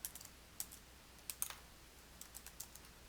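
Keys tapped on a computer keyboard to type a team name, with quiet, close clicks in short irregular bursts and small gaps between them.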